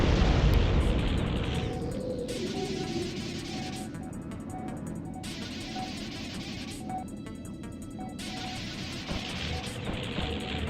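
Sustained roaring bombardment in the PS1 game G-Police: a dense, rumbling wash of explosions that stays loud throughout, with a heavier burst at the start.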